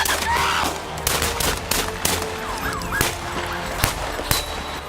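Gunfire exchanged between a suspect and police near an intersection, caught on a dashcam: a rapid run of sharp loud shots and bursts over a constant noisy roar, continuing through the whole stretch.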